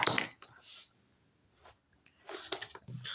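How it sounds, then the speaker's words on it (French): Paper for a chest-of-drawers craft kit cut along marked pencil lines, heard as close crisp snips and rustles in two bursts separated by a quiet pause. "je vais venir couper"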